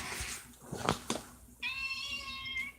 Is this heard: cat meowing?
yes